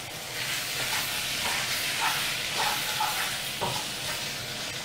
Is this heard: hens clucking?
no